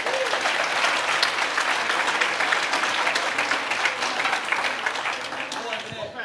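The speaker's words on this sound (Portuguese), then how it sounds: "Você pode dar uma salva de palmas para a Margarete?" Sustained audience applause at a church sermon, steady and dense for the whole stretch, fading slightly at the end.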